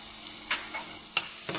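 Onion sizzling in hot oil, a soft frying hiss broken by a few brief scraping stirs, quiet and close, with no voices.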